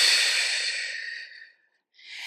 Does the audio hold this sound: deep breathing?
yes